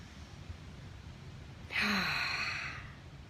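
A single deep breath drawn in and let out slowly after a moment of quiet, close and clear, fading gradually at the end.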